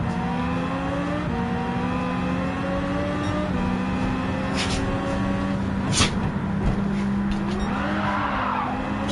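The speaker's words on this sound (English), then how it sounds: "A little bit of wheel spin there." Dodge race car spinning its wheels as it accelerates, a loud continuous engine drone with tire squeal and sharp scrubbing bursts layered over steady mechanical noise.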